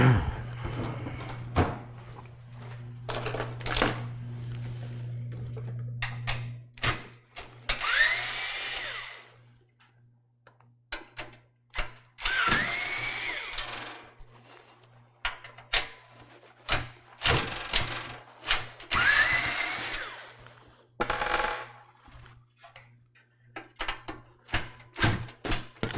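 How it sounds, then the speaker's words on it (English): A power drill driver repeatedly whirs in short bursts as it tries to back out tight factory-installed thumb screws on a PC case, its torque setting too low, with pauses and handling clatter between attempts. "The torque is set too low to loosen those screws out"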